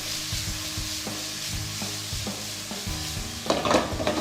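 Datterino tomatoes stew in a pan with a continuous soft sizzle, while a utensil scrapes and stirs in regular strokes. A brighter burst of bubbling and scraping comes near the end.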